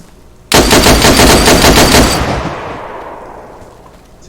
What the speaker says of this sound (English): See that? Bullets hitting the rocks.